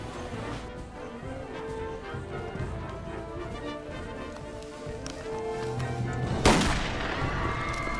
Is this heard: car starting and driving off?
no